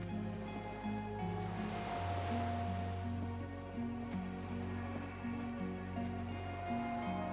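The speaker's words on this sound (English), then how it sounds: "The skiff is swaying on the waves by the dock." Gentle water lapping against a small skiff moored at a dock in the game Disco Elysium, a soft steady wash of waves under a low ambient drone with sustained musical tones throughout.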